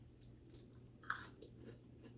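Shrimp from Thai food, with massaman curry and pad see ew on the table, is chewed close to the mic with a few crisp crunchy bites over soft, quiet mastication.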